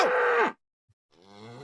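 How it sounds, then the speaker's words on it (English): A loud, close cow moo holds for about half a second and drops away, then after a short silence a second, softer moo begins and carries on. "we got to get the bull sound effect back"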